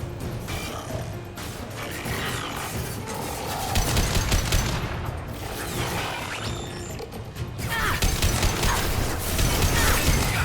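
Continuous rapid gunfire and mechanical clattering from Geth combat in the video game Mass Effect 2, a dense, loud barrage of metallic bursts and whirring with no pauses.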